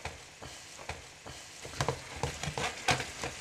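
Green beans tossed and stirred in a hot pan of lamb stir-fry with ginger and coriander, giving a steady close sizzle broken by repeated scraping, clattering stirs that grow busier toward the end.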